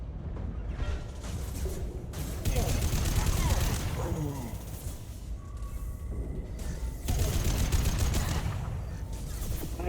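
Sci-fi gunfire in a Mass Effect 2 Legendary Edition firefight, rapid bursts of automatic weapons and shots crackling loudly in uneven volleys throughout, with a player talking over the shooting.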